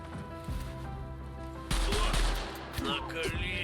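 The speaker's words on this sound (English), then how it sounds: "I just get shot. Who shot me? Somebody's got a gun." Gunfire in the Stay Out (Stalker Online) video game, a short burst of loud close shots with a crash-like impact, over steady background game ambience.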